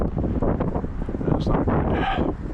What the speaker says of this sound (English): Wind's picking up again.